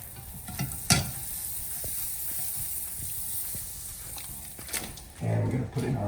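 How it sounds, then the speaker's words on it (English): Butter sizzles in a pan with a steady, soft frying hiss, broken by a couple of sharp clinks and ending with a brief voice. "We're going to coat the bottom of the pan with just a little bit of butter."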